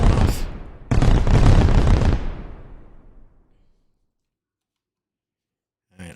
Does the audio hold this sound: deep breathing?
no